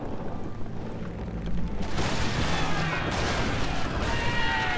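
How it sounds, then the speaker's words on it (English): Cannons fire in a Napoleon Total War naval boarding battle, a dense rolling barrage of booms and crackling volleys that swells louder partway through and keeps going without a pause. "They just still firing the cannons."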